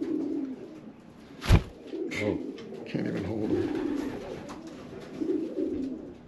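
Racing pigeon, an old hen and 500-mile race winner, held in the hand and cooing in low, soft bursts at close range, with a sharp brief rustle of wings and someone talking quietly over the calls.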